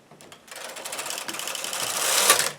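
A knitting machine carriage slides across the needle bed while knitting a tubular short-rowed heel, a steady mechanical whir with rattling clicks that builds from a quiet start and runs for a couple of seconds, close by.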